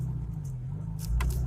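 A 1948 Packard Super 8 long wheelbase sedan cruises through a parking lot and rounds bends, its steady low engine drone and road rumble swelling slightly near the end.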